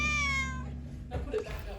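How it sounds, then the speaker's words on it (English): A stray cat named Inky on a homestead gives a single drawn-out meow that fades, followed by faint background rustle, close and alone without speech. "This is the day that a stray cat showed up on the homestead"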